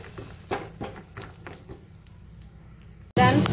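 Whole dry fruits frying in a pan for a homemade dry-fruit snack, giving a soft steady sizzle broken by a few light stirring taps, then a sudden louder burst of hissing at the end.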